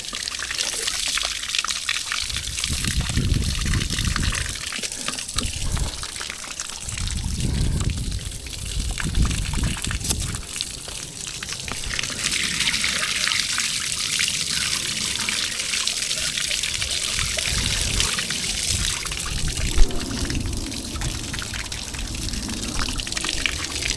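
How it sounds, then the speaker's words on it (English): Tap water runs steadily while someone washes their hands, a continuous rushing stream with surges and splashes as hands move under it, with no talking. "let's wash our hands."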